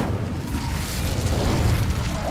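Incendio fire spell cast in Hogwarts Legacy, a close, full whooshing burst of flame that roars steadily for a couple of seconds.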